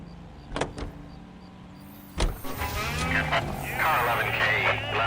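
In the L.A. Noire game, a car door thumps shut, then the engine starts and settles into a steady running hum with faint radio chatter, fairly close.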